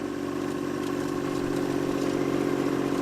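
Second-hand tractor on a large farm in Japan, its engine running steadily at close range with a continuous low, even idle throb and no voices.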